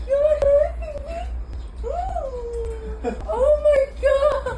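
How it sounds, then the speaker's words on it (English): A puppy lets out a run of high, wavering whimpers and drawn-out little howls with short pauses between them. The cries come from close by over a low background hum. "When did you get a puppy?"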